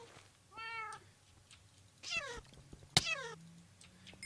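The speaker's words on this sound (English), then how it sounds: "We got cats, which is a problem from the stupid witches everywhere" Several cats in a Minecraft FTB modpack world give short, high, clear meows one after another, with a sharp click among them over a quiet background.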